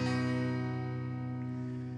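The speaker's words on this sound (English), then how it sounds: "Remember, in OpenG tuning, so when you play openly, it's going to sound like this." An acoustic guitar tuned to open G, with a capo at the fourth fret, rings out as one sustained, steadily fading open strum, heard close and alone.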